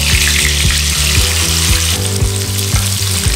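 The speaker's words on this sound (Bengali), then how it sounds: "দুই সাইড ভালো করে ভেজে নেব।" Chital fish coated in salt and turmeric fry in hot mustard oil, crackling in a loud, continuous sizzle, with a tonal background running underneath.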